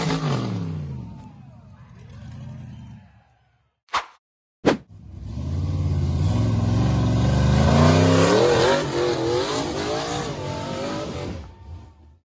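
A gray off-road buggy flying an American flag revs hard while powering up a slippery, boulder-covered forest slope. Engine drone builds and wavers with loud rising pitch sweeps, broken by two sharp knocks and a brief drop to near silence.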